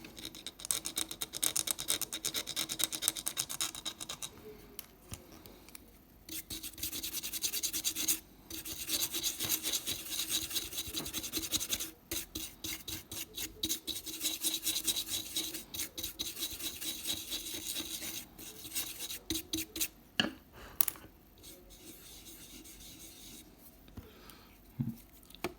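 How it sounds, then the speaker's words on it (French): A toothpick scrapes dirt off a Napoleon III 5 centimes coin, a continuous close rasping and scratching in bursts with brief quiet gaps, dry and gritty throughout. "On entend le bruit. En fait ça fait ripper le cure-dent, ce qui fait que la terre s'enlève encore plus facilement."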